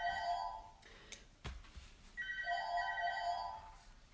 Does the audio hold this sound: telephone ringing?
yes